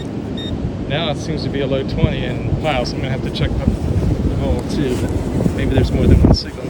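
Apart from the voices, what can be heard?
wind blowing outdoors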